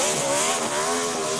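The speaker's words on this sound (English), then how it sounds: "A victory burnout on the front stretch at Lowe's Motor Speedway." Race car engine roaring steadily through a victory burnout on the front stretch at Lowe's Motor Speedway, loud and close, with dense harmonic revving held for the whole moment and no voices.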